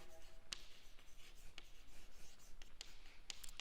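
Chalk or marker scratching out equations on a board during a physics lecture on free electron and band theory of metals, with soft intermittent taps and strokes over a steady background hiss.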